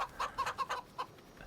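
Chickens in a video game farm cluck in a quick, close run of about six short calls, then fade to quiet.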